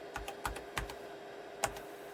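Keys clack on a Tandy 1000 SX computer keyboard in a handful of separate, fairly sharp taps with uneven gaps, close and clear over a faint electrical hum, without talk.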